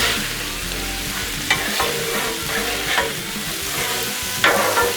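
Jambalaya being mixed on a Blackstone griddle, continuous sizzling with several sharp spatula scrapes against the flat steel surface.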